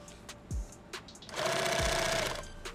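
A sewing machine runs in a short burst of rapid, buzzing stitching, close and fairly loud, set between a few light clicks and handling knocks, with no talking.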